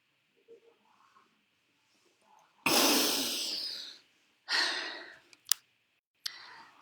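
Deep breathing in preparation for a hypopressive apnea: a long, loud, airy exhale, then a shorter second breath and a sharp brief sniff or click, close and alone against a faint steady hum.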